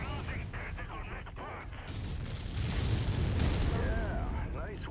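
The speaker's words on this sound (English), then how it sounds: "It finally fired my rockets." A salvo of rockets fires in MechWarrior 5 Mercenaries: a swelling rumbling barrage of booms and whooshes that grows louder midway through, with radio chatter and someone talking over it.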